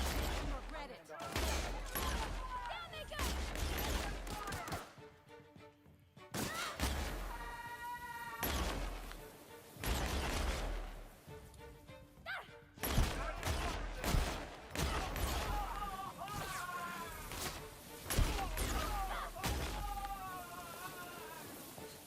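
Rapid gunfire from the video game The Outer Worlds, bursts of shots and impacts recurring throughout amid game music and effects, with a player talking intermittently over the action.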